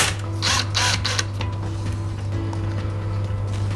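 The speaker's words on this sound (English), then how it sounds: "so we'll loosen the screw off." A screw is loosened on a wooden shutter, giving a few rapid ratcheting clicks early on. Then a low steady hum and faint handling noises follow.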